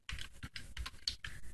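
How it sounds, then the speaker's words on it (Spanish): Quick, irregular clicks of keys on a computer keyboard, close and fairly quiet, about a dozen strokes in a short burst. "Ay, este teclado, estoy batallando mucho con este teclado."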